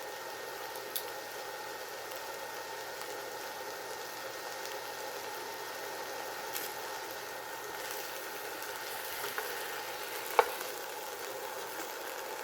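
Cut okra frying in oil in a pan, a steady faint sizzle and crackle with a couple of tiny pops, no voices.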